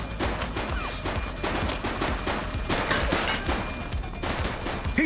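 Rapid bursts of gunfire in a police shootout from The Precinct video game, with dense, sustained volleys and overlapping shots filling the whole stretch, loud and close, with no talk over them.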